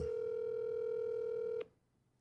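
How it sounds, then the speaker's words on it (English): A phone rings with a single sustained electronic tone that cuts off abruptly, leaving near silence, with no voices. "You'll hear my phone ringing."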